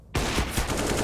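Counter-Strike gunfire during an ESL Pro League match: a sudden loud burst of rapid automatic shots, several sharp repeated cracks in quick succession, close and dominant.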